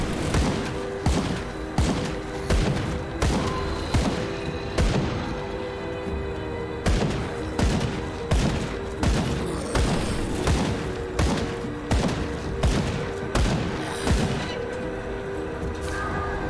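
Rapid gunfire from a zombie-fighting action game on PC, with loud, dense shots repeating almost every half second over a constant booming background, and no talking.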